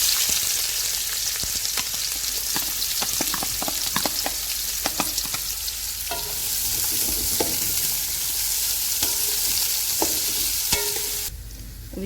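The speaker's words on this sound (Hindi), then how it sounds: "अब इसी ऑयल में हम प्याज फ्राई कर लेंगे।" Sliced onions fry in hot oil for an egg dum biryani, giving a steady loud sizzle broken by the clicks and scrapes of stirring, with no talking.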